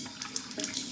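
Hot and cold water running from a bath tap in a rental property, a steady close splash with slight fluctuations and no talking.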